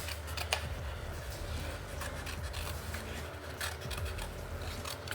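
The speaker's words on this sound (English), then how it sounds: "we're going to do fussy cutting" Scissors snip steadily through paper during fussy cutting of a craft piece, a close, continuous run of small cuts and rustles with no talking.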